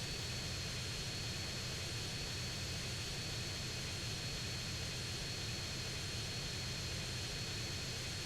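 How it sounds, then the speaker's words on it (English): A propeller airplane in GTA San Andreas throttling down on a landing approach gives off a steady, even engine drone with a broad hiss, holding constant at moderate volume throughout. "I'm slowing the plane down as much as possible, and I'm trying to like land here"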